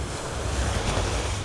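Steady rush of surf rolling onto a calm beach at sunset in Aruba, near and fairly loud, with some wind buffeting the microphone and no voices.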